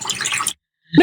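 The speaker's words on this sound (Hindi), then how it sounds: "पानी सुनने में आपको बहुत पीसफुल लगता है?" Water splashing or pouring in a short close burst, then a brief silence and a liquid plop.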